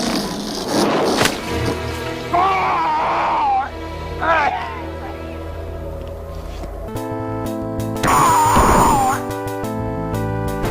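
Digitised enemy death screams from the Golden Axe arcade game, several short strained vocal cries with pitch bends rising over game music, loud and close, one longer scream near the end.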